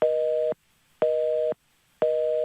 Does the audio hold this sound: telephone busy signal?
yes